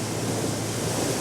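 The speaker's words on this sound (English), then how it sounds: "capture some of these waves coming over the top of the rocks" Sea waves crash over rocks in a dense, continuous roar of surf and spray, loud and close, with some wind buffeting mixed in.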